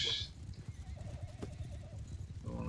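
A horse whinnies in the Mount & Blade II: Bannerlord video game, a wavering neigh in the middle over low, rhythmic hoof clatter and background game noise, with a sharp burst at the start.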